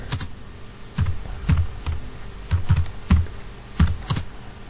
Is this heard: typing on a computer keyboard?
yes